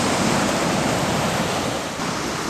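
Surf of the Atlantic Ocean at a beach resort in Varadero, Cuba, a steady broadband wash of breaking waves, loud and continuous with no talk.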